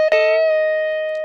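One bent note on the B string of an electric guitar, from a riff, picked sharply and then held as a clean, sustained tone that slowly decays.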